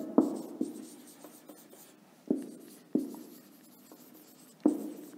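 A teacher writes words on a board during an English class, chalk or marker strokes landing as sharp taps and scrapes in irregular bursts, close and clear with no talking.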